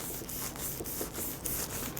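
A fishing rod part lightly sanded by hand with fine sandpaper, a soft rhythmic rubbing of repeated short strokes, close and quiet.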